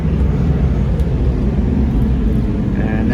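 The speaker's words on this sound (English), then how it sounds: "And that plane just took off" A jet airplane takes off from a nearby airport runway beside Isla Verde beach in Puerto Rico, a loud, steady low roar filling the whole clip, heard outdoors.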